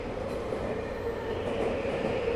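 A train in the visual novel UsoNatsu, a constant low rumble of rolling rail carriage with a faint metallic whine above it, steady and close, with nobody speaking.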